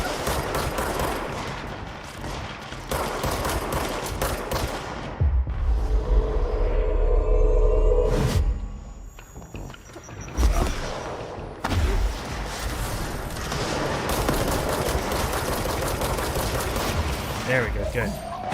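A heavy firefight in the game Control, with dense bursts of gunfire, rapid automatic shots and booming thuds blending into a loud, continuous din, a brief lull midway, and a voice talking over it.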